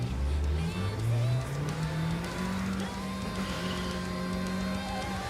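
Upgraded car in a video game accelerating, engine pitch climbing through rising revs then holding a steady high drone, close and continuous.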